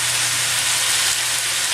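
Fish fillets frying in a pan give off a steady, loud, close sizzle, a dense hiss that holds unbroken throughout with no voices.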